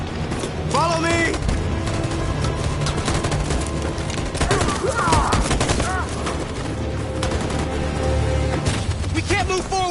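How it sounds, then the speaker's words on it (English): Sustained gunfire and booming blasts in the video game Detroit: Become Human, a dense continuous fusillade throughout with voices shouting underneath. "That machine gun is taking down everything that moves!"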